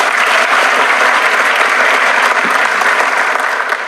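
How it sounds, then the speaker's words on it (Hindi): A crowd applauds, loud and sustained clapping that fills the whole stretch, close and dense with no pauses. "इस बात पे ताली बनती है।"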